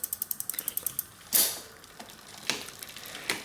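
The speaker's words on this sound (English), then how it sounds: "so I'll tighten this down a little bit more here" A rapid run of small ratcheting clicks comes from a bicycle rear derailleur as its limit screw is turned, followed by a louder metallic clack and a few scattered clicks, close and quiet with no talking.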